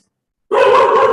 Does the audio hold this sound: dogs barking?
yes